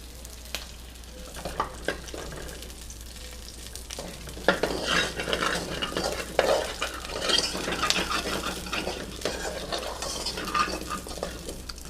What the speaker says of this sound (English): So now to the pan that we cooked the beef in, we're going to add the shallots now.